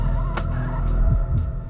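Chickens on a large poultry farm, a dense constant flock murmur with a few brief sharper calls rising above it, loud and close with no talk.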